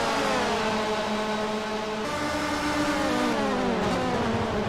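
Race cars speeding down the front straight on the final lap, their engines whining loudly and steadily at high revs, one pitch sliding as a car passes close by.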